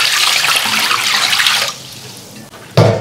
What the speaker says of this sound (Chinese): 21买了3斤猪肝，加水洗一下。